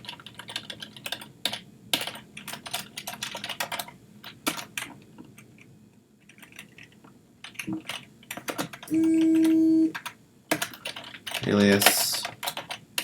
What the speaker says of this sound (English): That's typing for us.